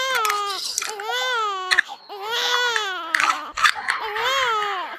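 A baby bawls nonstop in a school theatre staging of a legend, a string of loud wavering wails broken by sharp catching breaths, close and intense, with no voices talking over it.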